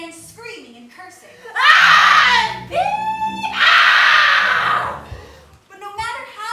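A man in a theater story performance bursts into loud, strained screaming and shouting in two long outbursts, with spoken narration before and after.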